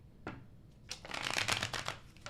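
A deck of tarot cards is shuffled close up in a quick, crisp riffle. A soft flick comes first, then a dense flutter of cards builds and fades over about two seconds.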